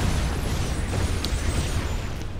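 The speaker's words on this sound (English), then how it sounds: "his commander obviously exploded" A commander unit explodes in the real-time strategy game Planetary Annihilation, a dense crackling blast with a deep rumble that holds loud and steady throughout, alone without voices.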